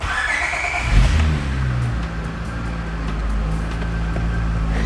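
A daily-driver car's engine idles steadily close by, its low rumble rising in a brief rev near the start before settling into an even running drone, with no voices.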